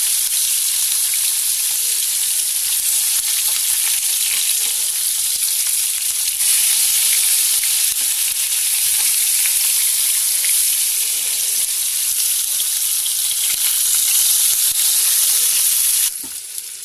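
Cheese kebabs of raw minced meat fry in a frying pan and are gently flipped with a flat spoon, giving a loud, steady hissing sizzle that holds unbroken before cutting off abruptly near the end, with no talk.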